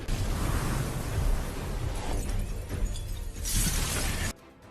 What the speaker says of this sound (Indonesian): Dan pada akhirnya armor Xiao Yan pun hancur